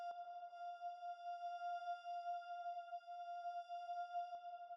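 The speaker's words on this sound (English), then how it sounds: "this little pad sound that I made with Operator" A sustained synth pad built in Ableton Operator holds a single high string-like note F, steady and smooth with a slight pulsing shimmer, soft and alone for nearly five seconds, with faint clicks at start and end.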